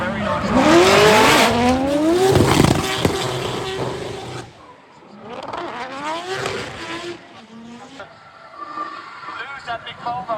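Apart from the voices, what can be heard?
drift cars, Nissan 350Z and rotary Volvo, tires squealing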